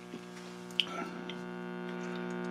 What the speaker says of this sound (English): it's humming.